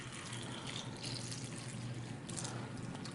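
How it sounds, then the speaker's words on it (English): Tap water poured into a container, a steady broadband splashing rush that fills the whole stretch at constant level, close and continuous with no voices. "we're just going to simulate that by pouring some tap water in here"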